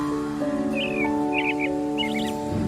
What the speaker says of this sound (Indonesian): Pagi-pagi memang seneng banget dengar kicauan burung.